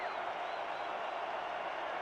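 Loud crowd roar fills an indoor arena at a San Jose football game, a steady dense wall of cheering and noise with no break over a couple of seconds.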